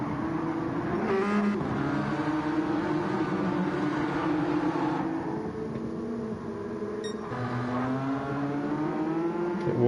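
A Pagani GT1 race car in a racing video game thumps over a curb at the Nürburgring Nordschleife, its engine drone loud and continuous with slight pitch shifts as the car unsettles.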